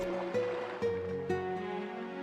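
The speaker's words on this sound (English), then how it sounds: "Serene lake. The sound of the water." Gentle lake water lapping in the game Zelda: Twilight Princess HD, a steady soft wash of water at a serene lakeside, with layered musical tones and low swells pulsing every second or so.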